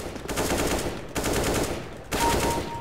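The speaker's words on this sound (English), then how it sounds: "need to find someone and then burst fire" Rapid bursts of automatic gunfire in a first-person shooter game, three dense loud volleys back to back with brief gaps between them, heard alone with no talking.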